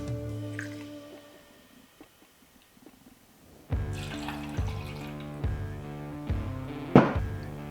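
Bourbon poured over ice in a mixing glass for a cherry wood smoked Old Fashioned: a soft trickling pour followed by a series of sharp clinks and knocks of ice and glass, close and alone with no talk.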